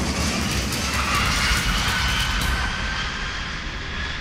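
Airbus A380 airliner on landing, a loud, steady broadband roar of engines and rushing air that holds throughout and eases slightly toward the end.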